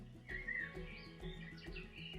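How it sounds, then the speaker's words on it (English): Small birds chirp and warble outdoors on a mossy spot, with several bright, short calls in quick succession at moderate distance over soft background ambience. "with the sound of birds' song"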